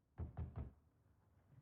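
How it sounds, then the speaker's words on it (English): Three quick, evenly spaced knocks on a door in the video game The Wreck, a dull, close wooden rapping followed by quiet. "Ryan Gosling knocks on her door to coax her out"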